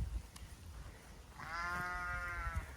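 A sheep gives one clear, wavering bleat inside a shed, standing out over low rumbling background noise after a quieter opening.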